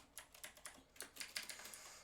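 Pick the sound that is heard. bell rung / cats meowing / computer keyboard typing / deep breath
computer keyboard typing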